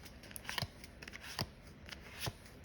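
Crisp papery snaps and flicks from handling a deck of 78 standard size tarot cards, several separate close clicks spaced irregularly over a quiet background.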